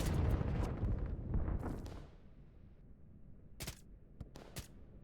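Artillery fire in the real-time strategy game Line War: a dense burst of booming shots and blasts up front, fading into quieter ambience, then a few sharp isolated distant reports.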